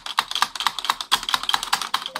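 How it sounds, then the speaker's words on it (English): Rapid, even typing on an SK64 64% mechanical keyboard with black switches, a close, loud string of sharp clacky keystrokes with no voices. "Today, I'm gonna teach you how to make your keyboard sound better because it probably sounds like this."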